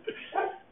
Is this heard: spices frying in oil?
no